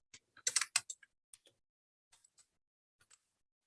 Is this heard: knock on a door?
no